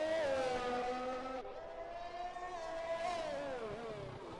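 A Formula One race car in a video game laps the Canadian track during qualifying, its high-pitched engine whining steadily with rising and falling revs as it shifts through gears, loud and close on board.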